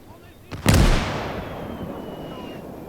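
Artillery and mortar fire in Gates of Hell, a faint crack followed by a loud booming blast that rolls off into a long decaying rumble.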